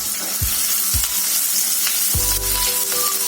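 Garlic dropped into hot vegetable oil for white sauce pasta, frying with a steady bright sizzle and sharp bursts as pieces hit the pan, close and continuous with no talking.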